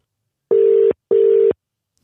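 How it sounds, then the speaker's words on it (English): Outgoing telephone call ringback tone: two identical steady electronic buzzes, each about half a second long, separated by a short pause, loud and clean with no talking. "Let's try and get a hold of Ellie on the phone."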